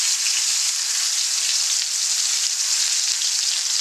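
Catfish fries hard in a hot pan, a dense, loud, continuous sizzle with no pauses and no talking.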